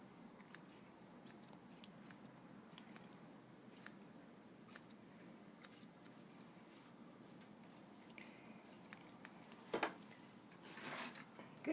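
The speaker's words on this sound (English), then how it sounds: "we're going to cut a little ring around the base of the tail" Grooming scissors snip repeatedly at a Bichon's fur around the base of its tail, crisp quiet clicks in an irregular rhythm close up, with a slightly louder flurry of cuts near the end.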